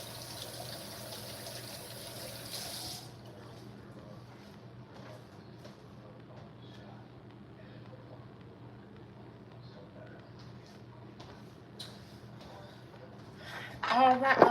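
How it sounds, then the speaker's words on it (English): Tap water runs into a sink as hands are washed, a loud hiss at first that drops to a quieter trickle, with a brief splash near the end. "Let me wash my hands real quick"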